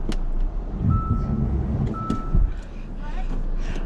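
A car stuck in snow during a Winnipeg snowstorm reverses. Two short electronic reversing beeps sound about a second apart over a steady engine rumble, and voices talk nearby.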